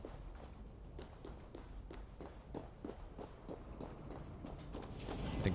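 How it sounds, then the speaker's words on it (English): Footsteps in the Assassin's Creed video game fall in a steady walking rhythm of soft thuds, repeated evenly over a low ambient background, moderately close and without talk. "I think I hear footsteps, but I don't see anyone."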